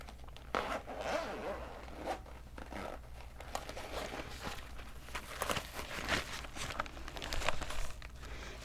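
Zipper on a pin-covered pencil case, heard up close in a quiet ASMR setting, with repeated scratchy zipping strokes mixed with crinkling, rustling handling noises and small taps, steady and continuous throughout.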